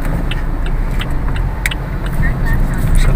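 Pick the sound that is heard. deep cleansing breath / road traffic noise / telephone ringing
road traffic noise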